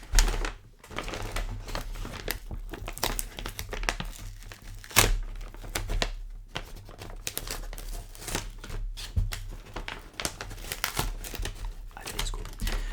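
McDonald's nuggets packaging is opened up close, with crisp crinkling and tearing of paper and cardboard in irregular bursts and sharp crackles over about thirteen seconds, with no talking.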